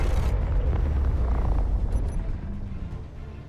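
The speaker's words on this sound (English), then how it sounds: "and just like that, we have our explosion" Railgun round exploding on a planet in Space Engineers with a 250 blast radius, a dense low roaring rumble that starts at full strength and slowly fades, no voices.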